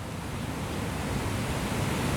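Savant Falls, a large waterfall on a wilderness river, gives a steady, dense broadband roar that stays even throughout, heard without any voices.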